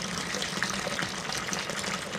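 Water running steadily from a hose while a Ford Falcon XB heater box is repaired, a continuous close gushing hiss like a filling tap, no voices.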